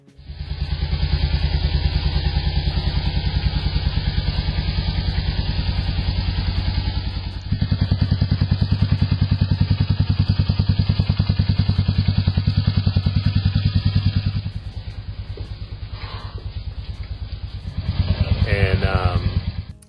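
A Royal Enfield motorcycle rides past with a loud, steady thumping engine drone, the pitch shifting as it changes speed, then easing to a lower idle-like rumble before revving up again near the end.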